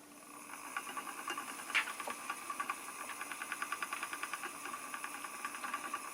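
An EEW Nano 2 electric spinning wheel hums as it spins a sparkly wool blend, a soft motor drone with a regular rapid ticking pulse and one sharper click near the start, quiet and close.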